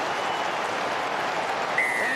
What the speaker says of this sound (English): The crowd like it.